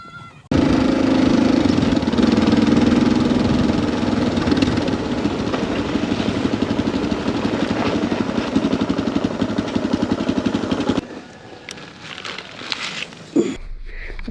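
Motorbike engine riding along rough roads in East Timor, a loud steady drone with rhythmic pulsing and wind rush for about ten seconds, then dropping to a quieter idle with scattered knocks.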